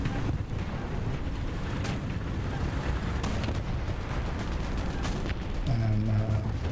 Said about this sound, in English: I'm gonna put artillery over there.